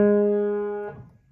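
A single sustained piano note or chord from a song, with a tied note held and a G sharp in the left hand, rings clearly and fades out over about a second.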